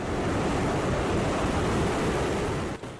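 Ocean surf on an eroding beach facing the Indian Ocean, heard as a continuous loud wash of breaking waves with wind noise, then a brief dip near the end.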